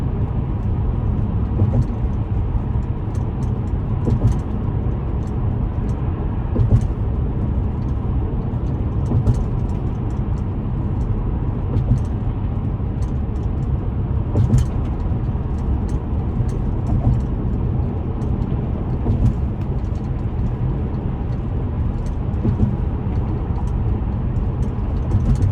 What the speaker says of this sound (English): Here's the traffic that's going to build to get onto the Brooklyn Bridge.